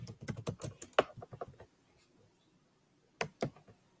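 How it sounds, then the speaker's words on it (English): Quick bursts of keystrokes clatter on a computer keyboard, a fast irregular run of clicks that pauses into near silence before two more taps, quiet and close. "I'll be typing away and it ain't doing nothing"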